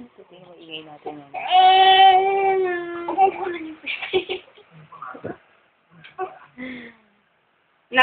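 A baby cries in a loud, drawn-out wail that breaks into short sobbing whimpers and fades to quiet, with an adult voice speaking nearby.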